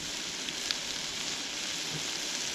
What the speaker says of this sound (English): Get the onion and the pepper cooked all the way through.